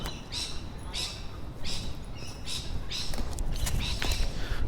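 Bird calls drift down from high above a Sydney city street, a series of short bright chirps repeating in bursts over steady urban background noise, distant and faint.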